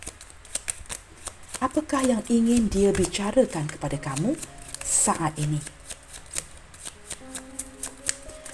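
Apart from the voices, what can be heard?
shuffling tarot cards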